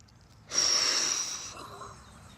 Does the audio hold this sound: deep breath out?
yes